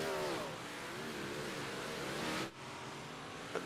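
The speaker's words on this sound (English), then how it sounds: "Freeman trying to get his car back up to speed" A race car engine revs and climbs in pitch as the car gets back up to speed, a steady nearby whine that briefly drops out before resuming.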